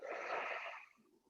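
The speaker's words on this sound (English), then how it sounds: "you're gonna take a deep breath in" One deep, airy breath drawn in during a breathing exercise, close and quiet, lasting under a second before trailing off.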